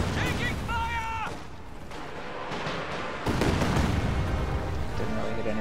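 Katyusha rocket artillery fires in a World War II strategy game, loud booming blasts and rumbling impacts mixed with game voice alerts and battle noise, layered with spoken commentary.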